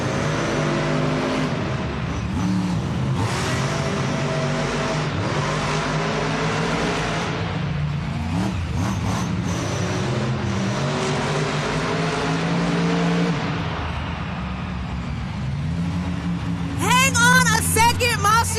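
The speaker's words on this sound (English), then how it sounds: "Both Monster Jam trucks are gonna go ahead and restage at the starting line to take off." Two Monster Jam trucks roar steadily at an arena starting line in Tacoma, engines revving loud and continuous for most of the stretch, with the rumble easing near the end.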